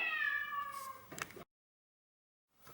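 A small cat gives one drawn-out meow, close and clear, followed by a short scuffle, then silence and a faint rustle at the end.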